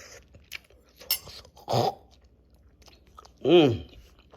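Wet chewing and crunching bites on a mouthful of warm, seasoned cooked brown beans, a few distinct bursts close to the mic separated by quiet pauses.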